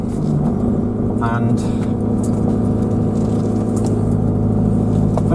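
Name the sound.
Ford Transit Custom diesel van engine starting and idling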